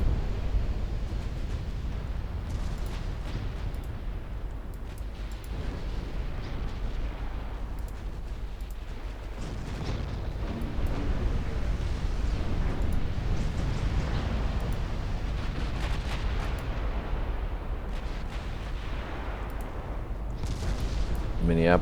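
Battleship gun turrets firing in the Ultimate Admiral Dreadnoughts naval game: a continuous heavy rumble of deep cannon blasts and distant explosions throughout, with someone talking over the noise.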